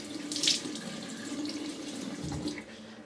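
Water runs steadily from a tap into a sink, close and continuous, with a few splashes as hands scoop it to wet the face before a shave.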